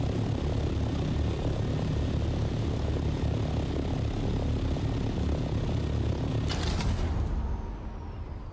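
Flying craft in Dune Awakening, a loud continuous propeller-like engine drone passing close over sandy terrain, easing off near the end, no voices.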